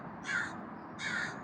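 A crow caws twice, about three-quarters of a second apart, with harsh, moderately close calls over a faint outdoor background near a river pier.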